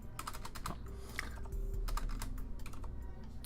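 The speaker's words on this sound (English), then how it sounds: "started typing 3 separate things there" Rapid, uneven clatter of keys on a computer keyboard, close and steady for a few seconds with no voices.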